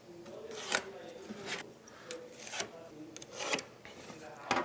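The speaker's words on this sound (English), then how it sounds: "We'll draw some lines on here." A pencil scrapes along drywall, guided by a level used as a straight edge. Several short, raspy strokes come close by, with pauses between them.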